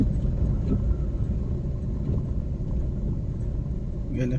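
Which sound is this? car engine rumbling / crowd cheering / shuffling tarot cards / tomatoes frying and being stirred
car engine rumbling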